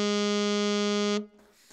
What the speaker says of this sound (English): And the F note sounds like this.